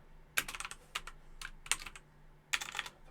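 Keyboard typing on a computer while coding a registration system: quick clusters of sharp, close key clicks with brief pauses, light and crisp over a faint hum.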